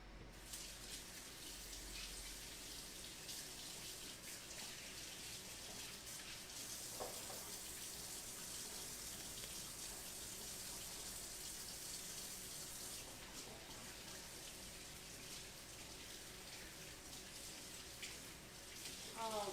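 A kitchen sink tap runs steadily while hands are washed, a soft continuous stream of water with faint splashes and brief murmured voices underneath.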